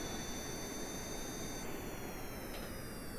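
Jet engines of a tilt-wing aircraft in a video game roar steadily through a horizontal landing, a dense continuous whine with high tones that shift partway through, loud and close with no talk.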